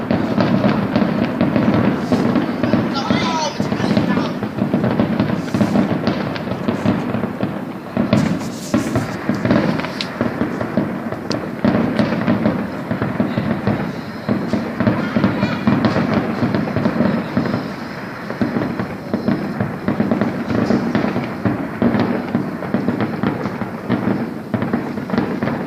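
A fireworks display rumbles and crackles steadily for a long stretch, with dense overlapping bangs and sharp pops layered over a continuous roar. It is loud and sustained, with no clear pauses.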